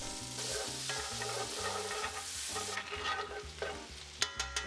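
Garlic and sun-dried tomato fry in a pan of butter and olive oil, giving a steady close sizzle with stirring scrapes throughout. A low tonal hum sits underneath, and a few sharp utensil clinks land near the end.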